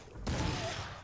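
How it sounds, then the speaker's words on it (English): A shotgun blast from the video game Vampyr, fighting a large werewolf beast: one loud, sudden boom that decays into a lingering rumbling tail, with a voice faintly present. "Shotgun."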